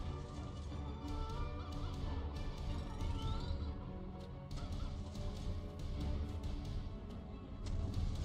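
Possessed chicken-like creatures in the video game Poppet Quest give scattered fowl-like squawks and clucks over ongoing game music and effects, with no talking.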